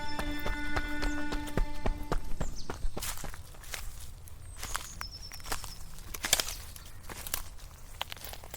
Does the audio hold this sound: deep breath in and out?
no